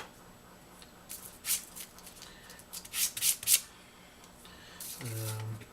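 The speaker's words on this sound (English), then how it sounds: "Just give that face a quick sand." Someone quickly sands the wooden face of a Karakuri Work Kit Newton Box piece by hand, giving short, close rubbing strokes in uneven bursts, with a brief low tone near the end.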